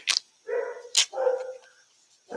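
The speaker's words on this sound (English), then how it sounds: "that is my dogs barking in the backyard" Several dogs bark in a backyard, sharp yips alternating with longer tonal barks, heard a few times at moderate distance with no speech over them.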